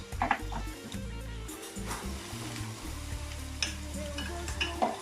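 Oil and a little butter sizzle in a pan for seasoning sea bream, a continuous close fry with intermittent stirring clatters and a few sharper ticks, no talking over it.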